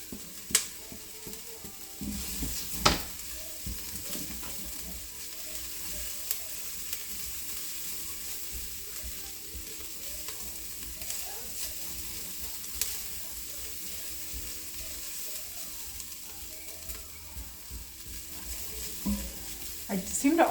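Garlic sizzles in a pan: a continuous, moderate crackling hiss for about twenty seconds, with occasional clicks and scrapes of stirring and faint background noise.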